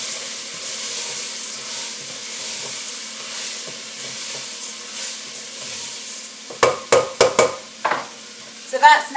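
Mung bean dhal being stirred in a pan, a steady soft sizzle with bursts of scraping spoon strokes toward the end, close and fairly loud, with no talking.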